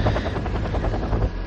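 A helicopter in the strategy video game European Escalation, its steady, loud rotor thump pulsing rapidly and continuously under a dense engine roar.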